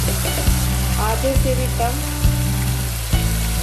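Boneless chicken sizzles steadily in hot oil with spices, loud and close, while a voice speaks briefly over it and occasional clinks of a spoon on the pan mark a steady stirring rhythm.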